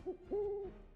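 A video game boss, an owl-like creature, lets out a short pair of hoots: a brief note and then a longer sustained one, clear and fairly close with nothing else heard.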